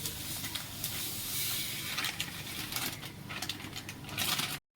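Semolina (rava) pours into a hot pan and roasts, giving a steady bright hiss and crackle with rustling bursts that grow toward the end, close and continuous, then cut off abruptly.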